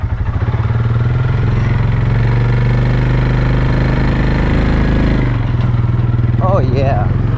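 A Honda 300 motorcycle engine runs steadily while riding, a loud continuous rumbling drone close by with a brief voice near the end.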